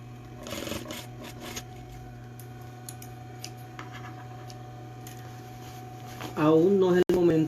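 A sewing machine stitches the lining of a fish-shaped backpack with a steady, fairly quiet mechanical hum and light ticking, and a person starts speaking near the end.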